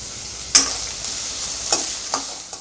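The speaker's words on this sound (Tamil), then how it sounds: "வெங்காயம் இவ்வளோ வதங்கினா போதுங்க." Onion and green chillies sautéing in a pan while a ragi breakfast is cooked, heard as soft sizzling with a few sharp stirring scrapes spaced through the moment, close and moderately loud with no voices.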